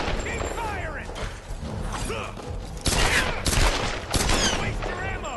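Dense gunfire in the Tomb Raider video game, rapid overlapping shots and bursts running throughout with a sharper, louder volley near the middle, mixed with game effects and talk over it.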